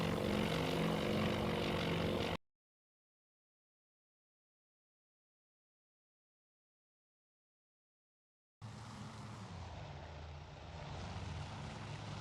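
Allied aircraft engines, the Marauders, drone loudly and steadily in the naval video game Task Force Admiral, breaking off into a long silence before returning as a broad, continuous roar.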